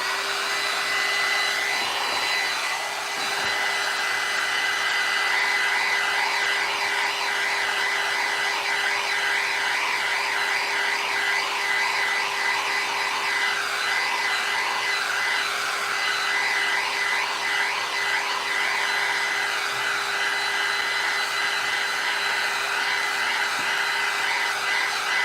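A hair dryer drying Moss Effect paste on a Halloween craft bottle, a continuous loud airy roar with a steady hum and slight wavering pitch, running uninterrupted with no voices.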